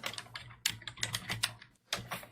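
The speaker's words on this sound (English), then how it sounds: "Those are the Googling fingers typing" Fingers typing on a computer keyboard nearby, quick irregular bursts of clacking keystrokes with a brief pause before a final flurry, no voices.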